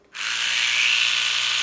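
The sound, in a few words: Oral-B electric toothbrush running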